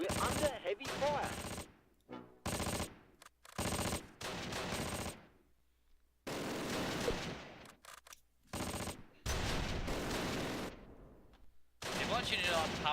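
Heavy machine gun fire from the Close Combat: Last Stand Arnhem wargame rattles in loud, separate bursts broken by short silences, with chatter from other game sounds between them.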